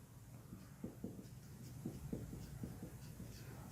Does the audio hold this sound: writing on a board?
yes